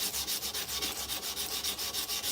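Sandpaper is rubbed by hand over wood in quick, even back-and-forth strokes, about five per second, close up and steady, with no talk.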